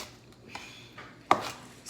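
Kale being chopped on a cutting board in a home kitchen while making soup: a single sharp knife strike stands out near the end, with faint scattered tapping before it.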